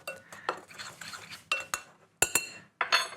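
A whisk or spoon stirs buckwheat flour, baking powder and bicarb of soda in a bowl, giving several bright clinking strokes against the bowl in short irregular bursts with brief pauses, close and clear.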